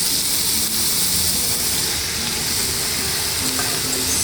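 Mooli, white daikon radish, sizzles loudly in a hot pan as it goes into the oil, a steady dense hiss and crackle filling the whole stretch without pause, with no voices over it.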